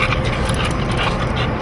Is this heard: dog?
yes